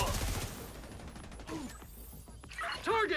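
Video game gunfire crackles in short bursts, fairly quiet, mixed with game voice effects and sounds across a few seconds.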